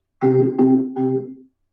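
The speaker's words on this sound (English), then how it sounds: "I put percussion on it." Three repeated C notes on a Hammond B3 organ with the percussion effect on, each with a sharper attack before a sustained tone, played alone and close.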